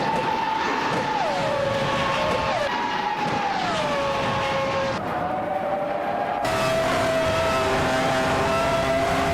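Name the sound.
race cars driving and overtaking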